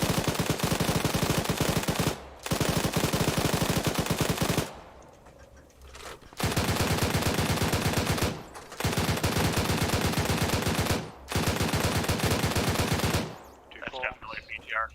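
Heavy automatic fire from a BTR armored vehicle in the military video game Arma, long sustained bursts separated by short pauses, loud and near, ending in scattered fainter sounds.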